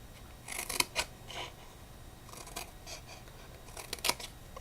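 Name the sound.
cutting a cardboard pizza box tab at an angle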